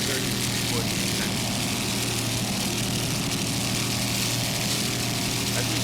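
A loud, continuous engine roar from a 30-foot Phantom offshore racing powerboat, Equalizer, at the 1999 West Palm Beach race, droning steadily without a break and mixed with broad rushing noise.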